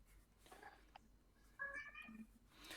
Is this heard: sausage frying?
no